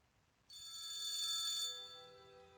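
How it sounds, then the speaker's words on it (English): An old-style phone bell in an Unreal Engine 5 horror game rings in one bright, sustained trill that fades at the end, heard alone against near silence. "we created the phone, which rings when we're in this area."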